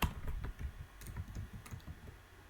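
Computer keyboard typing: a quiet, uneven run of key clicks, some in quick clusters, with no talk over them.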